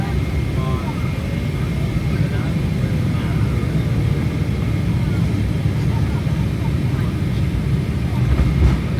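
Inside the cabin of an Emirates Boeing 777 landing at Birmingham, a constant deep engine and airflow roar fills the space, steady and broadband throughout with only faint fluctuations.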